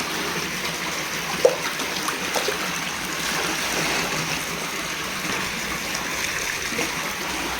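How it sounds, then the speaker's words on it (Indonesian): Nitrobacter solution mixed in water is poured into a fish pond, giving a soft continuous trickle and splash under faint outdoor background noise. "lalu kita tuang ke dalam kolam"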